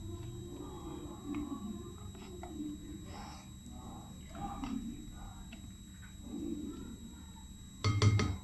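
Chopped lentils are scraped out of a kitchen chopper into a bowl with soft, steady scraping and light clinks of utensil on container, ending in a louder cluster of clatter, over a low background hum.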